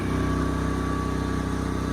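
A Genmax GM10500i tri-fuel inverter generator runs wide open at maximum speed, about 3600 RPM, with its exhaust close by: a loud, steady engine drone with an even, buzzing pulse that holds unbroken throughout.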